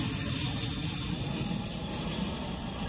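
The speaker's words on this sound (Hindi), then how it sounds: "यूएस का विमान रशिया में लैंड कर रहा है" A US military aircraft comes in to land, its engine roar loud, broad and steady throughout with no voices.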